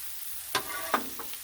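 Vegetables and jalapenos sizzle on a griddle. The frying hiss is soft and steady, and two or three brief scraping stirs come through close by.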